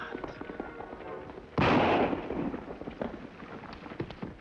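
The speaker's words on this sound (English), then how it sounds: "Rifle shot come from road, maybe." A single loud rifle shot cracks out in a Western TV drama scene. It is a sudden broad blast that rolls off over about a second, with faint background sound before and after.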